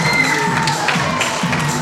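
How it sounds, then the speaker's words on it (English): Wrestling crowd at a live indie show reacting with mixed noise, a steady mass of voices, murmurs and scattered shouts filling the hall continuously and fairly loud throughout. "Bit of a mixed reaction there from the crowd."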